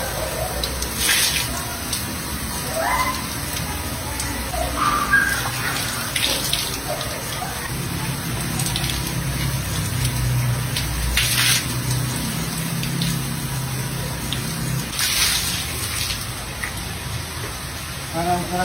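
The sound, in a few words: water running while someone bathes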